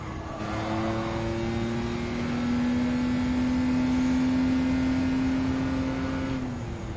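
A vintage car's engine accelerates steadily in the racing game Gran Turismo 7, one long rising engine note held loud and unbroken for several seconds with no talk over it.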